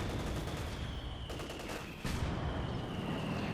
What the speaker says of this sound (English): Panther 4 strikes with machine guns and main gun